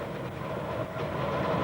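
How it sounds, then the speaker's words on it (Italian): A 1990s Ferrovie dello Stato ES 646 express on the Udine–Trieste line slows on a curve, giving a steady, dense rumble of wheels and carriage noise from inside the train, with no voices. "Il treno riduce ora la velocità"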